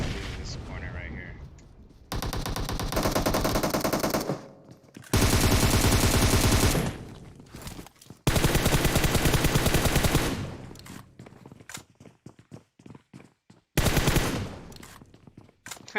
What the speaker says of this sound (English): I started shooting at the Maniac too